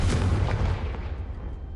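Confringo fire spell in the Hogwarts Legacy video game, a single sharp booming blast that quickly decays into a fading rumble, heard alone.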